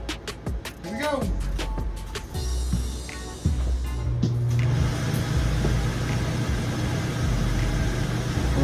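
An RV rooftop air conditioner starts up and runs, settling into a loud, steady whooshing roar of blowing air and motor hum that carries on to the end, with a few clicks and rustles before it kicks in.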